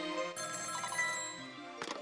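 A telephone rings in the Ghost Trick: Phantom Detective video game, a steady electronic ring with sustained tonal layers that runs for about two seconds and ends in a brief burst of noise.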